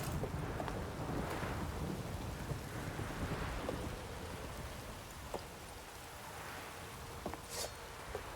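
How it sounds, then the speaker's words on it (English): Rainstorm with thunder in the video game Witcher 3, steady hissing rainfall with rolling low rumbles of thunder and gusting wind, continuous and moderately loud, no talking. "A storm, damn it."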